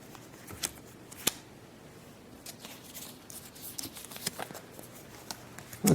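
Playing cards for a Middle-Earth card game are drawn and handled on a tabletop, making soft quiet slides and sharp little snaps and flicks scattered across a near-silent room.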